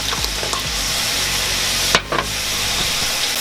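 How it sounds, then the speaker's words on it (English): Crushed tomato and tomato paste cooking on high heat in a pan for chili, a steady loud sizzle and bubbling hiss with occasional stirring scrapes throughout. "So what we're gonna do is we're gonna cook these down for a few minutes and let some of that acid cook down"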